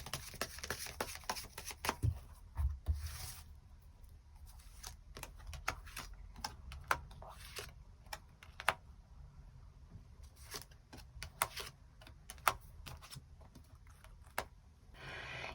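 Tarot cards being drawn and shuffled, a run of soft quick clicks and papery taps at close range with irregular bursts and pauses, quiet and alone without talk.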